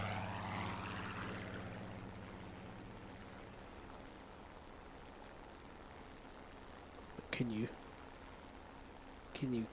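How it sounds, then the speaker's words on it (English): Propeller-driven plane in a video game, its engine droning loudly at first then fading into a steady, fainter hum, with short bursts of other game sounds near the end. "That's a pretty good little plane."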